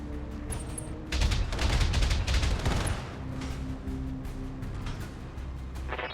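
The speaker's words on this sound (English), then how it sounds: "I'm under heavy fire." Heavy weapons fire rattles in dense, close volleys in the mech video game BattleTech, peaking in a loud barrage and then easing into scattered impacts; no talking.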